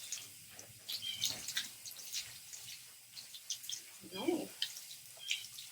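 A dog being rinsed during a bath, with soft splashing and trickling water and scattered bright drips, under a gentle voice speaking to the dog.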